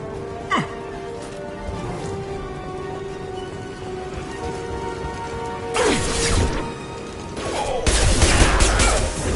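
Gunfire bursts in the Mass Effect video game, sporadic shots early then denser, louder volleys toward the end over a steady game-ambience background.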